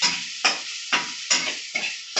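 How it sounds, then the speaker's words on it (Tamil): Food frying and being stirred in a pan until golden, with a steady sizzle broken by five sharp scraping stirs at regular intervals, close and alone without talk. "இப்படி பொன்னிறமாக வறுக்கணும்."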